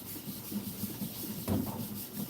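Grit being rubbed into place on a custom knife, a steady close scraping and rubbing with rhythmic strokes and one heavier pass, no voices.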